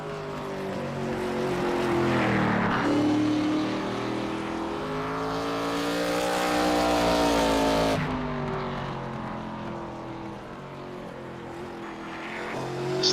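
A race car engine in a SuperStar ARCA Cup Series racing game at Myrtle Beach, a loud sustained harmonic drone rising and falling in pitch as the car accelerates and lifts through corners on its first lap.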